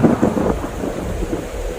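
A thunderstorm with heavy rain, a dense low rumble over a steady wash of falling water, close and continuous throughout.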